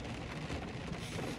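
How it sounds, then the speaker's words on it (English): Steady rain falls outdoors, a continuous even hiss of drops with no break and no voices over it. "it's really raining now. Can you hear that?"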